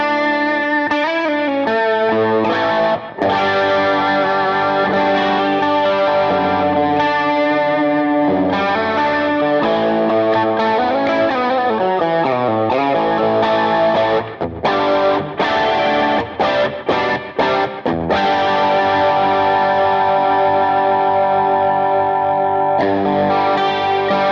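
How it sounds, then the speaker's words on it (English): Electric guitar played through an AmpliTube 5 amp with a C1-style chorus pedal and heavy post effects, a loud, distorted, shimmering chorused tone ringing out in sustained chords and melodic runs with reverb tails and no talking. "it looks like a chorus pedal, C1 type thing, in one of the amps, but also we're going into a load of effects afterwards in post"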